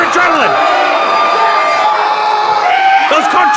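A wrestling crowd at a GMW show cheers, yells and whoops loudly and continuously throughout, with an announcer's voice over it.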